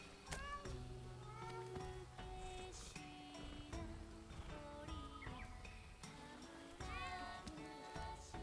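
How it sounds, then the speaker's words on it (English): Cartoonish cat meows and chirps from Monster Hunter Rise as two cat cooks make dango, bouncing and repeating over a lively, busy music backing. "these two cats make some dongo"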